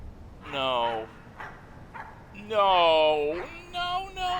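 A puppy in the video game My Friendly Neighborhood lets out two high, yelping whimpers, then a few shorter yips, each one separate and fairly close, with quiet gaps between them.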